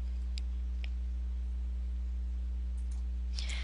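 Computer mouse clicks while selecting a custom variable in a web analytics page: a few sparse, small sharp clicks over a steady low electrical hum, close and quiet, with no talking.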